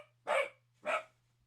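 A dog lets out two distinct, moderately loud barks about half a second apart, each short and sharp, over a faint steady low hum with otherwise quiet surroundings.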